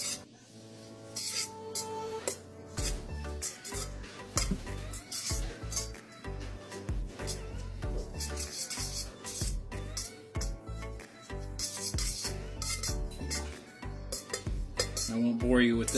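Model railway scenery foliage material is stirred and tossed in a container, a busy run of scraping, rasping and clinking strokes, close and fairly loud, continuing steadily with brief pauses.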